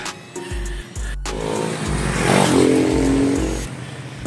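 Large vehicles rumble past a cyclist on a road, engine noise swelling loudly toward the middle and then easing, with no talking.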